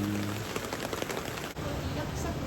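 Steady rain falls outdoors, a dense, even hiss that holds for the whole stretch with no clear breaks.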